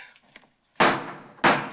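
A film-scene door slams twice in quick succession, two loud close thuds separated by a short pause, following a brief faint sound.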